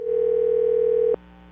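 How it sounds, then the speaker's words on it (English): A steady telephone tone holds for about a second, then cuts off abruptly, leaving only a faint hum and a brief soft noise at the end; no one speaks. "if I dialed the right number, and I'm pretty sure I did"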